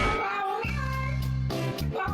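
A pet cat meows indoors, one drawn-out, tonal, wavering meow followed by a shorter second cry, close and fairly loud with no other sounds over it.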